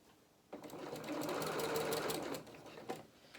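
A sewing machine kicks in and stitches forward along a curtain's lining, a near, busy motor whir with fast needle ticking that builds, holds for about two seconds, then trails off into a few softer clicks.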